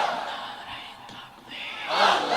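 A crowd shouting the takbir chant (Allahu Akbar) together, in loud massed voices that swell, dip, then surge louder at the end.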